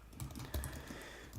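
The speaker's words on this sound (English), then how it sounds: "you type fast on your keyboard and you get random" Rapid typing on a macOS computer keyboard, a dense, fast patter of key clicks with a few heavier strikes, close up and with no voice over it.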